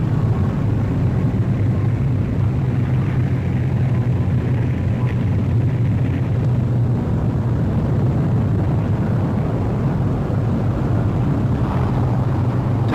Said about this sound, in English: The Hurricanes peel off and swoop down to the attack.